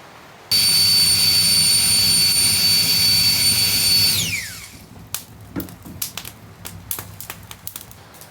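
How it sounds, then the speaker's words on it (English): A Flextail electric air pump blows onto a campfire at a winter cabin campsite, switching on to a loud, steady high whine that winds down after a few seconds, leaving sharp crackles and pops from the fire. "These flex tail pumps, they're more than just a handy tool to inflate your pad."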